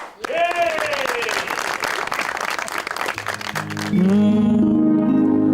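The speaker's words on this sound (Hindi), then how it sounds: "तो आपकी भरपूर तालियों में नताशा।" A studio audience on a TV show breaks into dense applause after a spoken introduction, and a few seconds later music swells in over the clapping.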